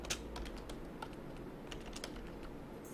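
Rapid, light clicking of fingers typing on a computer keyboard, a steady run of close, quiet keystrokes with no voices.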